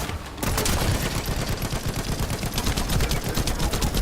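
Rapid automatic gunfire from a machine gun in the video game Warframe, a dense, steady stream of loud shots that starts after a brief quiet moment and keeps firing without pause.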